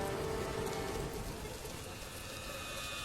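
Light drizzling rain falls steadily on surfaces, a soft continuous patter with scattered drops, constant in level throughout and no voices.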